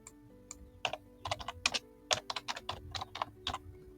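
A computer keyboard being typed on in quick irregular bursts of close, crisp clicks, with a steady low hum underneath and no voices.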